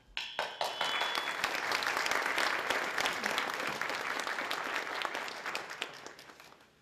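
Sustained audience applause at an institute's opening ceremony, dense steady clapping from a large crowd that swells quickly and holds for several seconds before tapering.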